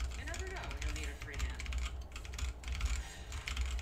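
Mechanical keyboard with lubed switches and XDA 8-bit keycaps is typed on steadily, soft dense keystrokes clattering continuously over a low background hum.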